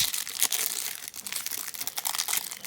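Foil wrapper of a football trading card pack crinkling and tearing open up close, a steady run of sharp rustles and crackles with brief pauses, no voices over it.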